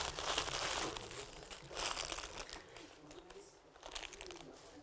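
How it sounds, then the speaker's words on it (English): A plastic pita bread bag is crinkled and stretched by hand, giving a continuous soft rustling and crackling with small swells of louder crinkles, close and fairly quiet. "This is a pita bread bag"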